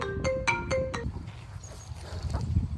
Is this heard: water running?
no